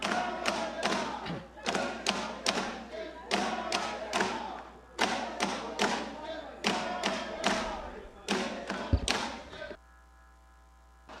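Members of a national assembly pound on their wooden desks in a parliament chamber, loud rhythmic bursts of rapid thuds in groups, with short pauses between them, ending in a low room hum.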